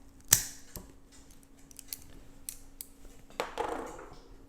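A sharp snip as a cigar is cut with a cutter, one crisp click near the start followed by small rustles and light handling taps, close and quiet.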